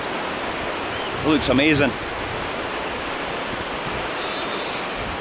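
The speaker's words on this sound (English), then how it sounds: "And this river is the North Esk." The River North Esk in the Scottish Highlands rushes in a constant loud roar of flowing water that fills the whole stretch, with a brief spoken remark over it.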